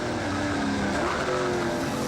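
NZV8 V8 race cars lap the wet Manfeild circuit in a 2009 race, their engines a loud, continuous roar that holds steady throughout with a sustained droning tone.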